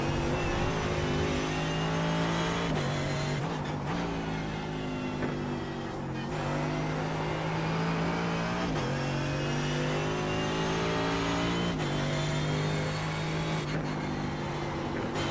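A GT3 race car lapping Watkins Glen in iRacing sounds out as a loud, steady engine drone with rising revs through each gear. Sharp upshift breaks come every few seconds, and the car stays close and continuous throughout.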